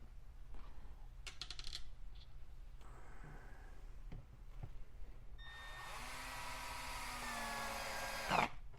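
A Milwaukee cordless screwdriver drives a small screw into scrap wood with a rising whir that builds over a few seconds, preceded by light clicks and handling noises, close and with no talk.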